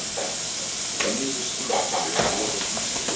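Ground beef and onions frying in a pan, a loud steady sizzle and hiss with occasional stirring scrapes, close up and with no talk.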